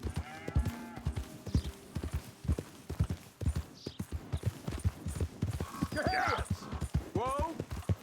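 Horse hooves clip-clopping in a steady trotting rhythm while riding in Red Dead Redemption 2, with someone talking over the hoofbeats and a horse snorting near the end.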